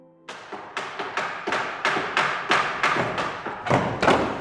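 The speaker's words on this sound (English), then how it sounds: "what's going on right now with all this banging is an organ being rescued from a Baptist church in the village of Chipperfield in Hertfordshire" Steady heavy thuds, about one every third of a second, close and loud in a reverberant room as a pipe organ is dismantled in a Baptist church in Chipperfield, Hertfordshire, with no talk.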